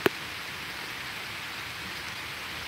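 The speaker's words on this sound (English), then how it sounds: "Wow, the wind is picking up now, and the rain as soon as I said that." Rain falls outdoors in steady hiss beside an ancient standing stone as the wind picks up, faint and continuous, with one brief sharp tap at the start and no talking.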